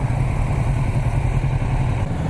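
A Kawasaki motorcycle engine, either a Ninja 650 or a Z900, idles steadily and close by with a low, even rumble and no talking.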